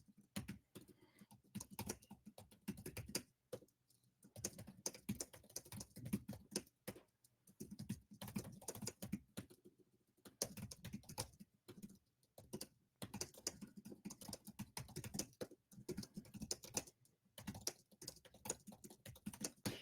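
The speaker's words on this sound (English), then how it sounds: "I'm going to even type in here." Fingers typing on a computer keyboard, irregular bursts of soft clicking keystrokes with short pauses, close but quiet and without speech.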